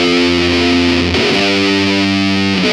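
Heavily distorted electric guitar plays the A riff, a loud sustained run of held notes that shifts pitch partway through, played alone with no talking.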